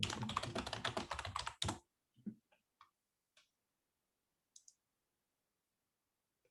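Fast, dense typing clatters on a computer keyboard at close range while a Google search is entered, then a few sparse, isolated key clicks follow in near silence.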